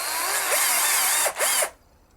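A small drill bores a pilot hole into a worn wooden guitar strap-button hole, whining loudly and steadily with a couple of brief speed dips near the end before stopping.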